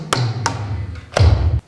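A drum is banged hard in a few loud, booming hits, two quick single strikes followed by a heavier, longer hit, close and alone.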